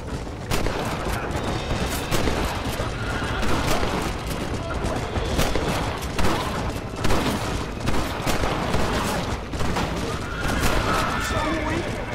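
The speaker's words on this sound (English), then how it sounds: "Looks like they're shooting at nothing!" Repeated gunfire crackles in rapid, uneven bursts across a noisy battle scene, with loud sharp reports over a dense background rumble while voices shout intermittently.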